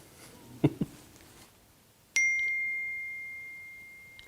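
A phone gives a single bright notification ding for an incoming message, ringing out and slowly fading in a quiet room after a couple of soft thumps.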